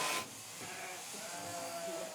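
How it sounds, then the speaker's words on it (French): Ewes bleating inside a large sheepfold holding about 2000 animals, a dense, continuous murmur of many overlapping calls after a brief louder burst at the start. "Nous sommes dans la bergerie de Lionel Escoffier, avec ses 2000 brebis."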